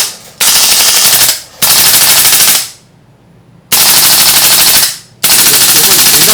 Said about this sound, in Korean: 자, 이번엔 연발로 한번 테스트를 해보도록 하겠습니다